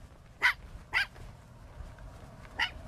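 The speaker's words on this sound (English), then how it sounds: "whose little dog that is?" A little dog named Benji barks three times, two sharp yaps in quick succession and then a third after a pause, moderately close over a faint background hum.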